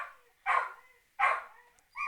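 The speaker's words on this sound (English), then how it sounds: "I used my dog barking as an opportunity to pause and go get some materials" A dog barks three times indoors, each bark short and fairly close, spaced evenly about three-quarters of a second apart with quiet between.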